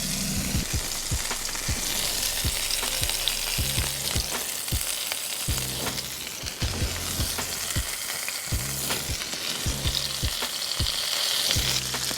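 Burger patties topped with American cheese fry steadily on a hot surface, a loud continuous sizzle with crackling pops and occasional scraping clicks of a spatula, with no talking.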